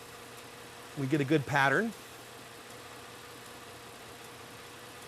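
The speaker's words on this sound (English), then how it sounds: "You can shut the engine off now." A car engine idles steadily during ignition coil diagnostics, a low constant hum and faint rhythmic rumble running throughout while someone speaks briefly over it.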